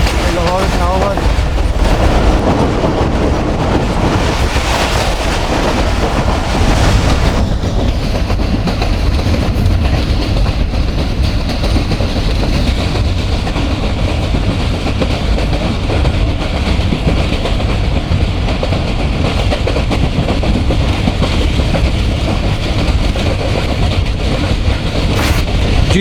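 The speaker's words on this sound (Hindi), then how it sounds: "ट्रेन अच्छी स्पीड में नहीं जा रही, बस नॉर्मली आगे बढ़े जा रही है" Millat Express passenger train rolling along the track between Lalamusa and Karachi at modest speed, a loud, constant rumble with rhythmic wheel clatter heard from on board, with voices faintly under the noise.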